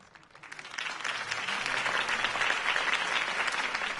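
A crowd in the Batman Telltale video game breaks into applause after a political campaign speech, swelling from quiet to sustained, dense clapping that carries on steadily to the end.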